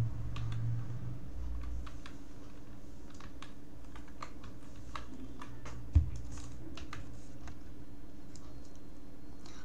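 Keys on a computer keyboard click in a steady, scattered patter close by, with a faint hum beneath and one louder thump about two-thirds of the way through.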